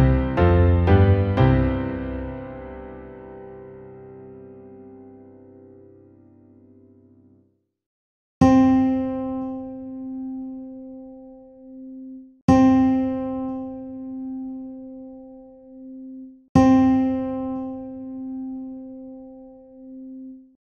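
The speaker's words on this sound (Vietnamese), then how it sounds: "Cao độ vừa nghe là nốt đô." Ear-training pitches: a rich, low sustained tone fades slowly over several seconds, then a pure C note sounds three times in an even rhythm, each strike decaying before the next, with silence between.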